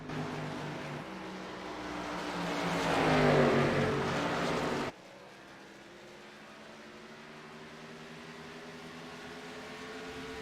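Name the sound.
stock cars racing at Iowa, from a video game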